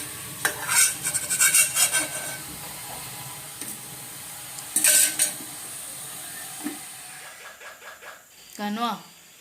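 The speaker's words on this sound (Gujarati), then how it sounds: "ફ્રાય કરેલી મેગી" Maggi noodles frying and being stirred in a pan in a home kitchen, with sizzling hiss and scraping bursts of a utensil against the pan, while someone talks over the cooking.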